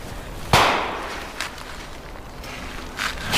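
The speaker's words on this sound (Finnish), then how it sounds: "Suokaasut, ne siellä vaan paukkuu." Sharp popping bangs at an outdoor camp by a swamp, one loud crack followed by fainter scattered pops over a quiet background.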